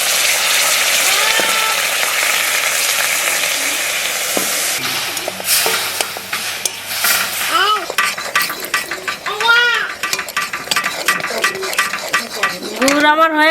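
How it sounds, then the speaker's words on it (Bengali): Jaggery melting with water in a pot gets stirred with a soft scraping, sizzling bubble while people talk and children play nearby, with a few clinks of utensils toward the end. "নাড়ু করার জন্য একটু জল দিয়ে দিচ্ছি গুড়টা গালানোর জন্য"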